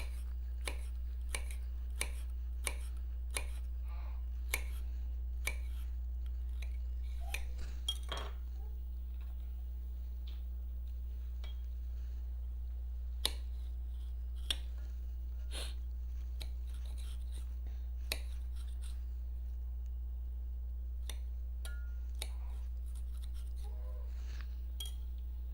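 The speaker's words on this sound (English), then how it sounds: "The aloe is a little different than cutting cucumbers" Knife cutting an aloe vera leaf into pieces on a board: a steady series of crisp, sharp clicks and taps, near and fairly loud at first, then sparser, over a low steady hum.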